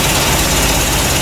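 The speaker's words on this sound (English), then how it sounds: "started up fine, but I don't know if you can hear, but the engine sounds a little rough" Triumph TR3 engine idling roughly, close and loud, a steady low rumbling drone with uneven pulsing throughout.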